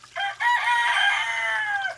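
A rooster named Parmesan crowing once, a single sustained, clear crow lasting over a second, close and alone.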